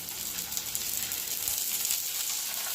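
Bhetki fish paturi sizzles steadily on a tawa brushed with mustard oil, a close, continuous hissing fry with soft crackles and no voices.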